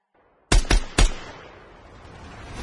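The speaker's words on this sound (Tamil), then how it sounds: "துப்பாக்கி சுடும் சத்தம் அந்த கான்பரன்ஸ் இடத்தில் எதிரொலித்தது" Three quick gunshots ring out in a conference hall, loud sharp blasts in fast succession followed by a long fading echo.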